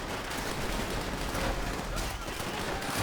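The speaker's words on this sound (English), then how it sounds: "Machine gun, there you go, you want to kill that." Constant loud machine gun fire in a Call of Duty video game, a thick unbroken barrage of rapid shots filling the scene from start to finish.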